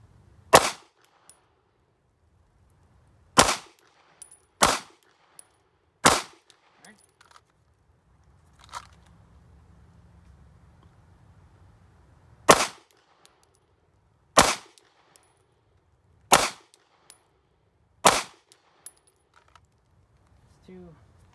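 Pistol shots crack out at 5 yards in a Dot Torture drill, sharp loud reports landing singly and in quick pairs with quiet gaps between them, and a faint low rumble in one pause.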